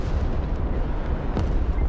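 Artillery barrages and explosions in the war game Broken Arrow, a dense continuous low rumble with a sharp blast cutting through near the middle, loud and unbroken with no talk.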